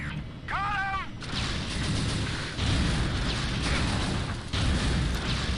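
Alternate fire of the assault rifle in the Unreal 2: The Awakening video game, heavy booming bursts repeating over a steady roar of game noise, with a short whooping electronic sweep near the start.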